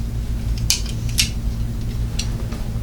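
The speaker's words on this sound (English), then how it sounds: "Now we do need to actually cut it in order to review the product" Scissors snip through the plastic packaging of a hidden infrared camera detector, a few crisp close cuts over a steady low hum.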